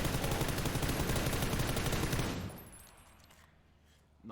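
Rapid sustained M4 rifle fire in the video game PUBG, dense and loud for about two seconds, then cutting off into quieter ambience with a faint thump at the end.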